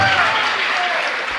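A crowd gathered for a spiritual talk in Tejgarh claps vigorously, producing a thick, even roar of applause that fades slightly toward the end, with a thin whistling tone faintly audible beneath.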